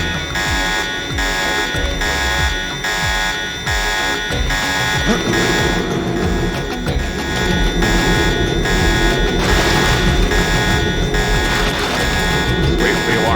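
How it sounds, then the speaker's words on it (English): A steady electronic alarm blares in the Deus Ex video game, a sustained buzzing tone with pulsing repetitions that runs continuously and fairly loud throughout, with game noise and a voice speaking beneath. "Just wait for the alarm to stop."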